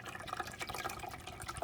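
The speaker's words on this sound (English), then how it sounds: "I'm going to pour the entire contents of this" Keurig descaling solution is poured into the emptied water reservoir of a Keurig K-Latte coffee maker, making a soft, faint, continuous trickle and splash close by.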